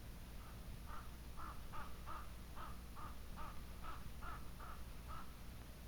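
About a dozen crow caws ring out at an even pace, faint and distant, over a constant low background hum.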